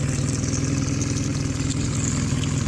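A Mercury 9.9 outboard motor idles steadily just after start-up, a close, even low rumble that runs unbroken throughout.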